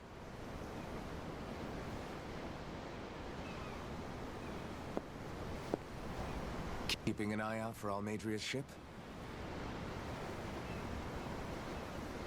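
Ocean waves heard from the deck of a sailing ship in the Tales of Arise game, a steady, broad rushing wash of surf and wind throughout, with a short spoken line partway through.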